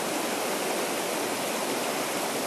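Fast-flowing water of the Upper Westfield River rushes steadily and loudly from close by, a dense unbroken wash of stream noise with no voices.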